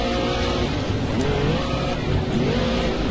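A race car engine in a racing video game revs hard while pulling away in second gear with the tyres struggling for grip, a continuous loud roar with rising pitch sweeps and some tyre squeal, no talking.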